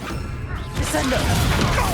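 In the Hogwarts Legacy video game, a Descendo spell slams an enemy down as a sudden loud whooshing crash followed by a dense burst of impact and magical clatter, with faint game voices mixed in.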